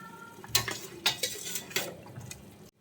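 Cooked rice is spooned onto fried chicken in a pressure cooker for dum biryani, with several distinct metallic clanks of a spoon against the pot and soft scraping and shuffling between them, close by and moderately loud.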